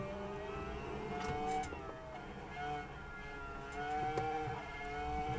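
Racing car engine in a sim racing game, a steady droning whine that rises and falls with revs, continuous and moderately loud, with no talking over it.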